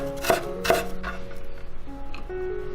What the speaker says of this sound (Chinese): 芹菜切成段